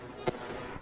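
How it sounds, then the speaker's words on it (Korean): A single sharp firework burst set off in China, one brief crack with a quick fade and a faint second pop after it, heard at a distance over low background noise. "이게 중국이 폭죽을 터뜨리는 거예요."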